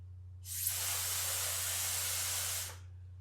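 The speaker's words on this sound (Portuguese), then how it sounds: "Ele pegava esse pote com a tinta, colocava aqui dentro e assoprava assim." Paint blown by mouth through a small tube from a pot of ink, a steady breathy spray hiss lasting over two seconds that starts and stops cleanly, close and alone over a low background hum.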